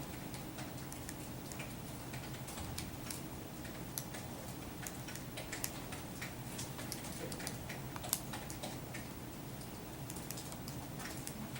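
Keys on a calculator keypad are tapped in quick, irregular runs of light plastic clicks during a linear regression lesson. The clicks are close and fairly soft over a low room hum, and no one speaks.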